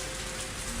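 Steady rain falling in the Higurashi video game, a dense, even hiss of drops on the ground that holds at the same level throughout, with no voices over it.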